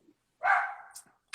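A single dog bark or short yelp at home, fairly close and moderately loud, standing alone in a quiet room with a faint trailing tail.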